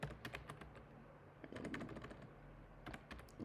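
Quiet clicking on a computer keyboard in irregular bursts, soft and close, some single taps and some quick runs of keystrokes.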